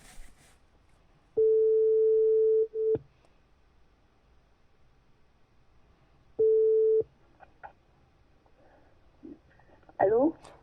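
A phone call placed through an Amazon Alexa Echo Auto in a car sounds a steady ringback tone in two long beeps separated by a pause, close and clear, with a short burst of speech at the end.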